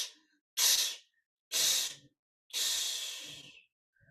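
Three forceful breathwork exhales, two short sharp puffs then a longer drawn-out blow, each close and loud with silence between them.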